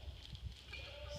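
Goats bleat briefly on a farm during the morning turnout, a couple of short calls close by over low background noise.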